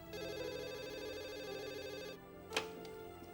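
An indoor telephone rings with a bright, warbling electronic trill that repeats steadily, then cuts off abruptly, followed by a short clatter and quiet.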